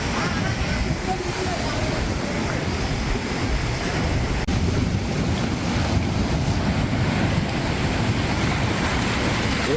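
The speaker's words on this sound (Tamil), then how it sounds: "எர்ணாகுளம் மாவட்டத்தில் கடல் சீற்றம் காரணமாக கடல் அரிப்பு ஏற்பட்டு" Rough sea surges against the eroding shore at Chellanam in Ernakulam, Kerala, flooding homes. A constant loud roar of waves blends with heavy wind buffeting the microphone, with no pause.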